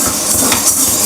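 Green gram dal dry-roasts in a pan, a dense, steady hiss and crackle of dry lentils shifting against hot metal, close and continuous.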